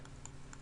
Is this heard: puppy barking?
no